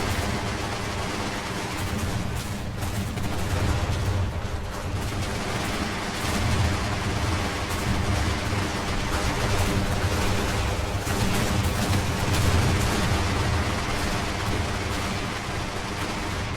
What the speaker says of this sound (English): Turn and engage. Focus fire on that monstrosity.